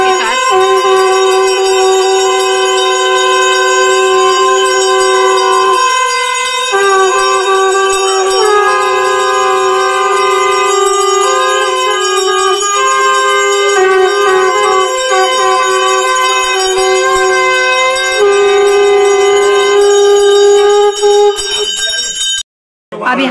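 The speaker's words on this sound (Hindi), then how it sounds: "यहाँ पर जनेऊ की प्रक्रिया संपूर्ण होने के बाद आरती की जा रही है, वो भी शंखनाद के साथ" A long, steady tonal blast holds with strong harmonics during a Hindu aarti after a janeu sacred-thread ceremony. It may be a conch shell or ringing bells. It stays loud and sustained for about twenty seconds, with slight pitch shifts, and ends in a sudden drop.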